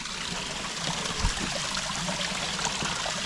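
A bushland stream in the Blue Mountains flows and trickles steadily close by, a continuous even wash of water without voices.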